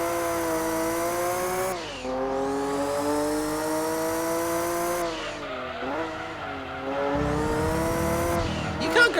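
A Porsche race car in Gran Turismo 2 revs loud and high through rising and falling gear changes, with tires squealing on a 300 km endurance race, the engine droning almost without pause.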